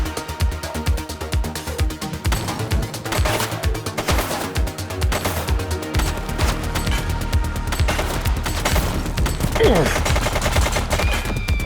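Rapid bursts of gunfire in the police video game The Precinct, dense overlapping shots and automatic fire rattling continuously, loud and close amid game effects.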